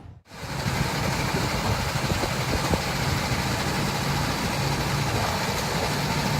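Go-kart engines drone steadily at the Karting Sindibad track in Morocco. A dense, constant roar of several motors holds at an even loudness from start to finish after a brief quiet opening.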